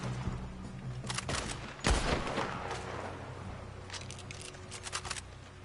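Gunfire in the video game Red Dead Online comes as scattered sharp cracks and bursts, one heavy close blast in the middle and a quick string of lighter shots near the end, fairly faint overall.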